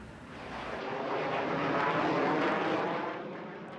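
A military jet passes over Virginia Beach, a broad roaring rumble that swells from moderate to loud and holds before easing slightly, a sustained flyover with no talking.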